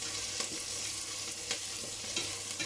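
Onions and garlic frying over high heat in a pan while being stirred, a steady close sizzle with soft scraping strokes of the utensil recurring every half second or so, no voices.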